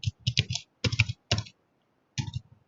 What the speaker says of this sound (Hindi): हमने कीबोर्ड के बारे में बताया था, कीबोर्ड में कैसे लिखते हैं, स्कूल नेम